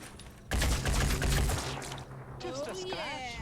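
A rapid burst of gunfire from a firefight in the Phoenix Point strategy game crackles loudly for about a second, followed by softer shots and electronic effects.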